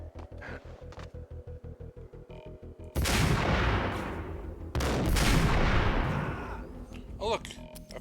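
Gunfire in the action game Max Payne: a steady rapid string of shots, then two long heavy bursts of loud blasts and rumble, with a few sharp reports at the end.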